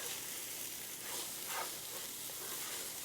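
Rice toasting in a pot for fried chicken jambalaya is stirred through a steady sizzle, with faint scraping swirls rising briefly over the constant frying hiss, and no voices.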